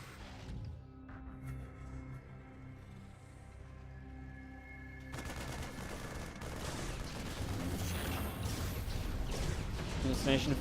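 Hallucinated units firing in StarCraft 2, with a quiet stretch giving way to dense, rapid crackling bursts of weapon fire that grow louder and busier toward the end.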